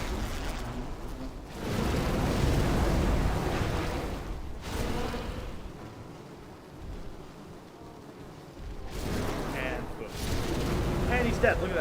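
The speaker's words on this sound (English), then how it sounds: "Explode again" Booming explosions in Demon's Souls, deep rumbling blasts that swell and fade in several waves over a low roar, with spoken voices in between.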